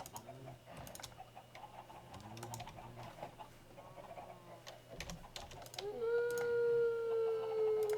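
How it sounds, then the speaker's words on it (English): Wolves howl in a Minecraft modpack world, drawn-out rising and falling cries layered over steady game ambience and scattered clicks, with a louder sustained howl near the end. "I constantly hear wolves now"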